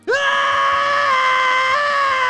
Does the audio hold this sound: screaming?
yes